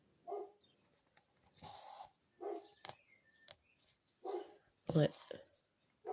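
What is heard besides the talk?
neighbor's dog barking, agitated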